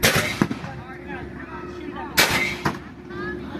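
Three sharp, loud gunshots crack out at irregular intervals, fired at a pumpkin target outdoors at a pumpkin patch, with faint voices and chatter between the shots.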